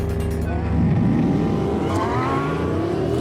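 A Porsche Cayenne Turbo and a Porsche 918 launch off the line in a drag race, a loud, steady engine roar with rising revs that fills the whole stretch, with faint voices mixed in.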